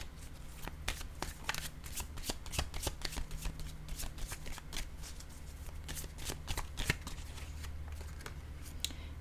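Oracle cards riffled and shuffled by hand in quick, continuous crisp flicks at close range, with a steady low hum beneath and no talking.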